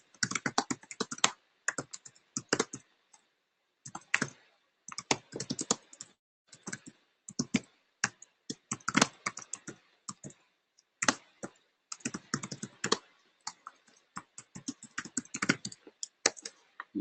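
Keys on a computer keyboard clatter in quick bursts of typing, separated by short pauses, close and crisp in an otherwise quiet room.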